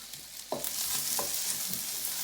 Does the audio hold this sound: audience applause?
no